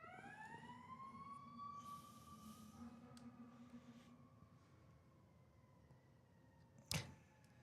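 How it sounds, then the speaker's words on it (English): A fire truck's siren wails nearby, one long rising tone holding steady and then fading, over low traffic noise, ended by a sharp bump near the end. "There's a fire truck, people."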